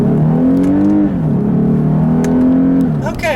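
A 2017 Lexus IS350 AWD with an automatic gearbox driven in manual mode, engine note climbing steadily then dropping at a shift and pulling again, loud and close from inside the cabin.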